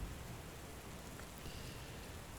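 Rain from a storm in the video game Book of Hours falls in a soft, steady hiss, faint and unbroken, with a gentle low rumble beneath and no voices.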